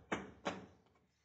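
Two sharp knocks on a door about a third of a second apart, fairly close and clear, with no talking.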